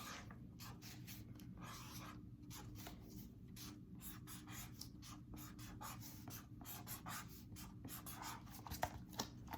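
A pen or pencil draws on paper in a steady run of short scratchy strokes, close and soft, continuing alone without talk.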